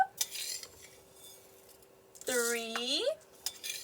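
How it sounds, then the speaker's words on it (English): A spoon scoops rice into a measuring cup with a few light scrapes and clinks spread across the moment. A short voiced sound rises in the middle. "When I take a scoop, I want to fill my whole spoon."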